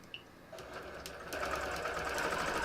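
Sewing machine quilting stitches, starting as a soft, slow hum and then speeding into a steady, louder whir that runs on without pause.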